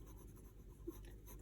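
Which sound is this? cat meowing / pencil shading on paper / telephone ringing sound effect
pencil shading on paper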